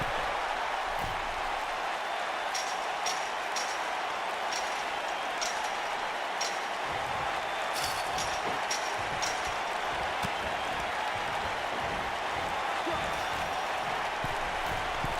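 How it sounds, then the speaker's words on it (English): Crowd cheering and applauding in the WWE 2K19 wrestling video game, a steady wash of arena noise throughout with scattered sharper claps and shouts rising above it. "Wow, the crowd's on the edge of their seats."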